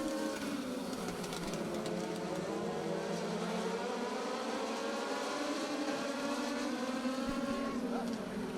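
Car 41's race-car engine, driven by Joey Braun into turn 3 during qualifying heats, wails loudly and continuously, its pitch rising and bending, while an announcer talks over it.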